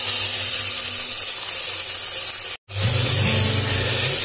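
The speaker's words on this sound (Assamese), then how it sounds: "এতিয়া মই ইয়াতে টুকি থোৱা চাউলখিনি ইয়াত দি দিছোঁ" Soaked rice being added to a hot cooking pot, giving a loud, steady hissing sizzle broken by one brief silent gap before resuming.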